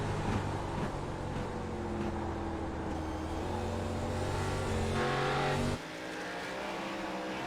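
Onboard a NASCAR-style race car at Irwindale Speedway in iRacing, the engine drones loud and steady in a continuous tonal roar, with pitch shifting as it revs, then dropping sharply near the end as the throttle lifts.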